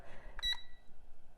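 A kitchen timer gives a single short, bright electronic beep as it starts, clear and close against a quiet room.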